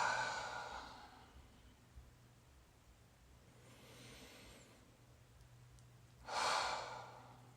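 A few slow, deep breaths are taken in a quiet room, soft airy exhales spaced several seconds apart, the last one fuller and louder, with faint steady background hum.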